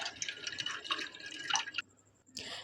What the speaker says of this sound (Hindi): सबसे पहले एक बोल लेंगे और इसमें पानी शामिल करेंगे